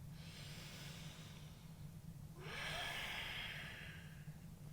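A slow, deep exhale during a yoga hip-mobility stretch, a soft airy whoosh of breath swelling midway and fading, close and quiet against faint room noise, with no talking.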